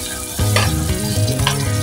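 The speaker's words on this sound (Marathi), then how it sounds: "आता त्यामध्ये घालूया 2 मोठे बारीक चिरलेले कांदे, सोबत एक 5-6 पत्ते कढीपत्त्याचे" Finely chopped onions and a handful of curry leaves dropped into hot oil already seasoned with mustard and cumin seeds, a loud burst of sizzling and spluttering close up, with stirring scrapes, and no voices.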